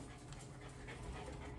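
Dogs pant close by, a soft rapid breathing with faint whimpers, steady throughout a brief quiet stretch.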